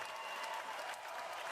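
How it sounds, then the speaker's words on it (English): A crowd clapping steadily, a continuous dense patter of applause with no breaks, sounding somewhat distant and soft. "stop all the people from doing their clapping"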